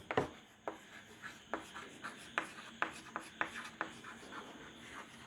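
Marker or chalk writing on a classroom board, a series of crisp tapping strokes and rubbing scrapes in an uneven rhythm, close and fairly quiet.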